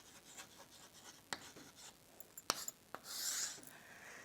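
Notes written by hand, soft close scratches and taps of pen on paper with a few sharper clicks and a longer rubbing stroke at the end, quiet and alone.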